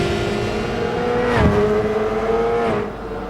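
GT300 race cars in a sim racing endurance event roar with a sustained engine tone, and one car sweeps past close by midway before the engine note settles again, with no talking.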